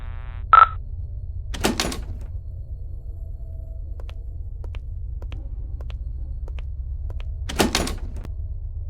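A locked door in the horror game Paranormal Entities rattles twice as the handle is tried, two short clattering bursts several seconds apart over a low, steady ambient hum, with faint ticks and a brief tone between them.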